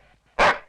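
A single sharp, loud dog bark erupts close by after a brief quiet moment, then fades out quickly.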